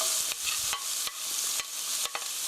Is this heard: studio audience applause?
no